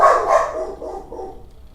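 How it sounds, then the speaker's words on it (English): Dogs bark in a quick run of sharp yips, two loud barks up front and then softer trailing ones, close and alone without talk. "I'll let the dogs bark their little heads off for a second."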